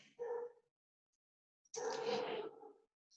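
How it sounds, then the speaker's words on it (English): A dog gives two short barks indoors, close and moderately loud, separated by a brief silence. "my dog is barking?"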